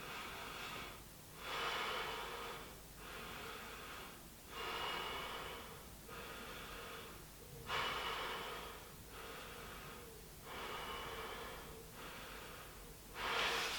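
Deep, slow breaths during a yoga pose, about five steady inhale-exhale cycles, each a soft airy rush close to the microphone, with quiet pauses between them.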